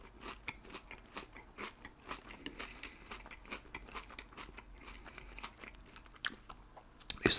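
Close, crunchy bites and chewing of a White Spot Triple O breakfast ciabatta sandwich, steady rhythmic mouth sounds with crisp crackles, ending in a louder rustle.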